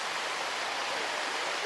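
The Sticky Waterfall near Chiang Mai pours in a steady, dense rush of water, loud and unbroken throughout, with no voices.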